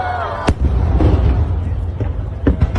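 Fireworks exploding at the Yokohama fireworks festival, a run of sharp booms and pops over a deep crowd rumble, with a few bursts standing out nearby and louder.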